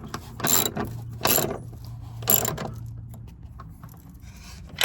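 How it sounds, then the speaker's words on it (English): Ratchet wrench ratcheting in several short bursts of rapid clicking, close and distinct, separated by brief pauses and fainter handling noise. "holding the ratchet like this"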